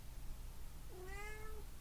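A single drawn-out meow from a cat named Zeno, a clear rising then steady cry lasting under a second over a low background hum.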